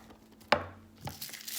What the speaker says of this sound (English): We're going to coarse chop the onion.